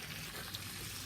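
Steak and potatoes frying in a pan for bistec con papas, a steady dense sizzle and crackle that holds evenly throughout, close and alone with no talking.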